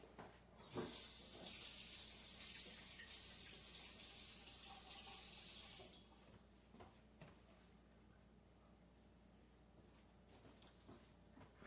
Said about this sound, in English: let me wash my hands real quick